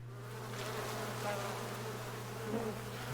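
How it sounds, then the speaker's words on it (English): Bees buzz in a soft, wavering drone at moderate distance, with faint rising and falling pitches as insects move about, continuous for a few seconds. "Oh, and here goes some more bees."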